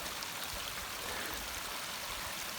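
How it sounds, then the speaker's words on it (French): A small mountain waterfall high on the slopes of Pic Perdiguère in the Haute-Garonne pours down toward a lake, giving a steady, even broadband rush of falling water throughout, with no voices. "Là il y a une petite cascade qui monte tout là-haut. Et qui doit se jeter dans le lac là."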